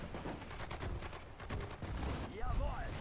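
Battle gunfire from the World War II strategy game Sudden Strike 4, set during Operation Barbarossa: a dense crackle of shots running through a busy mix of voices and game sounds, with a louder burst near the end.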